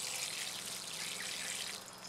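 Warm water pours steadily onto seed starting mix, a soft, continuous splashing hiss close by that eases slightly near the end, with no voices.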